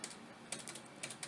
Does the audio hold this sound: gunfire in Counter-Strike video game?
no